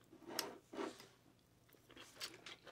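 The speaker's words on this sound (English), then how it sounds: "The pork crumbles on the top really adds a nice crunch." Crunchy pork crumble topping on cauliflower mac and cheese being bitten and chewed, with three or four close crunching bites spaced apart and quiet pauses between them.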